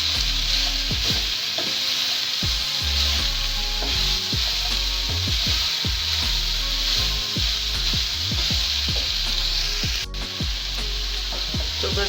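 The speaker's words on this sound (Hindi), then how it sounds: "इसको बस तेज़ आंच पर हम 1 मिनट ही सौते करेंगे" Cabbage is sautéed in a pan over a high flame: a loud, steady sizzle runs under repeated rhythmic scraping and stirring strokes of a spatula, close up with no talking.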